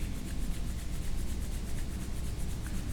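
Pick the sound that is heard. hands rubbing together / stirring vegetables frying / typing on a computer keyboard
hands rubbing together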